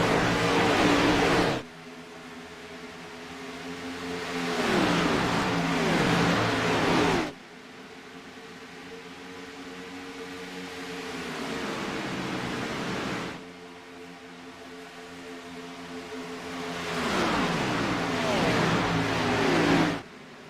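Stock cars race around the Hotlanta 250 track in a SCAR season 2 race, with loud engines roaring past in repeated waves, each surge building and then cutting off sharply between quieter stretches of more distant engine noise.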